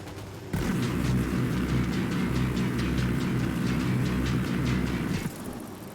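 Sustained automatic gunfire in Ghost Recon Wildlands rattles in a loud, rapid, even stream of shots for about five seconds, close and dominant, cutting off abruptly.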